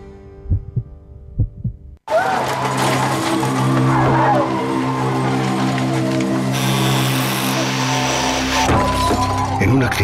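A traffic accident: a sudden loud crash breaks in after a quiet, tonal stretch, followed by sustained harsh crunching, grinding and scraping noise with high, bright glassy debris. The noise continues loud to the end, with no talk over it.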